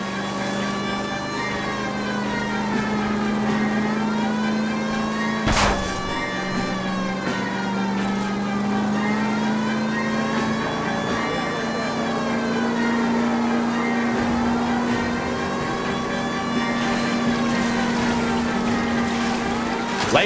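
Car engine in a video game chase from LA Noire, a loud sustained revving drone that rises and dips with throttle, with a sharp impact midway and a siren-like wail layered over the engine.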